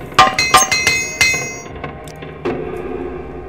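A repair hammer in the Morrowind role-playing game strikes gear in a quick series of about six sharp metallic clinks with ringing overtones, followed by a softer duller thud, with no talking.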